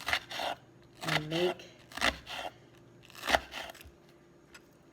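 Chef's knife cutting through an onion on a board while dicing it, several separate crisp rasping slices spaced apart, close and moderately loud, with brief talk in between.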